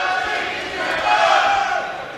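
A boxing crowd in a Sheffield arena sends up a dense, sustained roar of cheering and chanting, loud and unbroken, swelling slightly midway.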